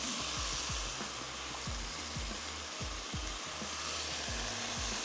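Green onion and ginger sizzle and fry steadily in a pan as coconut milk is poured in and stirred, with a continuous close, loud crackle and repeated low scraping thumps throughout, no voices.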